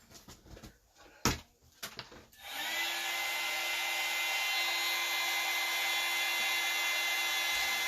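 Steady, loud electric hair dryer whirring continuously after a few brief handling knocks and clicks, used to dry a s'mores craft project with a marshmallow piece and melted chocolate.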